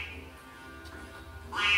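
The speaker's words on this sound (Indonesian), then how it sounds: "ia melihat seekor angsa putih" A white goose gives a short honking call near the end, rising suddenly out of a quiet, low background hum.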